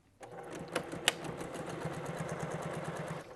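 A sewing machine stitches through a cork and suede foldover bag, starting abruptly and running in a steady, close mechanical whir with a couple of sharp clicks early on.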